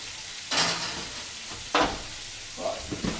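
Prawns cooking in a hot pan give a soft steady sizzle, with a few louder bursts of stirring and scraping at moments through it.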